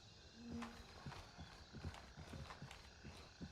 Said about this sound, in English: I hear more footsteps outside